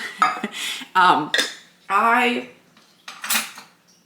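Dishes and cutlery clink and clatter in short separate bursts as they are put away, bright metallic rattles with brief quiet gaps between them.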